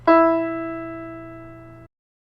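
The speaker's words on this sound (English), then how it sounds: "And this E sounds like this" A single sustained piano E note struck once, ringing clearly with slow decay for nearly two seconds before cutting off.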